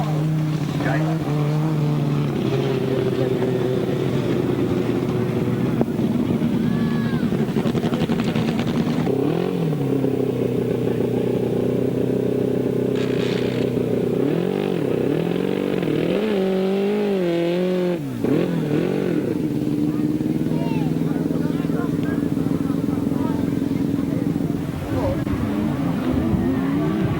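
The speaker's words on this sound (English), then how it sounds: "With the right-hand sidecars, here they come then" Right-hand 1000cc sidecar outfits roar past a trackside spot in a 1998 race, with engines swelling and fading through repeated pass-bys and revving, loud and continuous under a commentator's voice.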